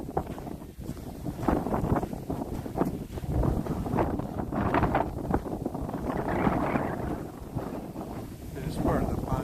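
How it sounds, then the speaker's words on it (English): Strong early spring wind gusts across a partly frozen lake, a loud, rough, buffeting roar that swells and eases over about nine seconds and batters the microphone. "That wind just starts blasting"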